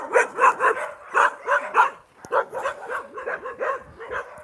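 Several dogs on a street bark in quick rhythmic bursts, close and loud, with yips and whimpering squeals mixed in and a brief pause midway.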